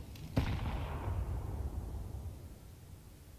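A single long-range rifle shot in a competitive video game cracks once near the start and trails off in a long, fading boom.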